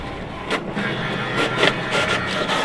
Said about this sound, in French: On refait une photocopie et vous allez voir que là, la copie ne sera pas annulée.